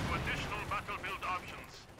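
Rapid bursts of gunfire from the World War II strategy game Company of Heroes 2, a string of quick, evenly spaced cracks over a busy battle backdrop.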